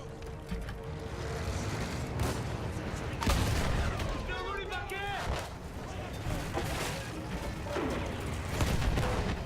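In Battlefield 1, field guns and gunfire crack in sharp, irregular bursts and heavy booms, some near and some distant, over a rumbling battle background.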